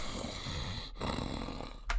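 Heavy, rough breathing pushed right into a microphone by someone, loud and close with a raspy snore-like texture, two sharp breaks in the airflow and a hard blast at the end.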